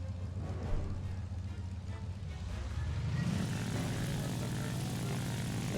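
A propeller aircraft engine in the video game War Thunder spools up for takeoff, a steady droning hum that swells and rises in pitch partway through, moderately loud and continuous with no talking.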